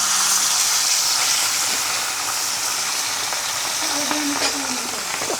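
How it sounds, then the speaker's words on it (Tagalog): Tilapia dropped into hot cooking oil, giving a steady loud sizzle and crackle of frying throughout, with brief clatter of handling near the end. "mainit na po yung mantika natin. Ayun. Ilagay na po natin itong ating talapia."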